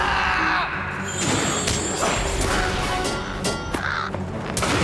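Crows caw repeatedly in the Lord of the Rings Online game, with several harsh calls over a dense, busy in-game ambience of clatter and movement at steady loudness.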